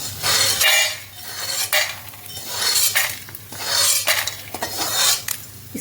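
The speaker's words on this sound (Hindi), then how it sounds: "इसकी आवाज़ से लग रहा होगा कि ये बिल्कुल अच्छे से भुन चुका है" Roasted edible gum (gond) rattles and scrapes in a pan while being stirred, producing bright, crisp clattering in repeated waves, with a metallic scraping quality throughout.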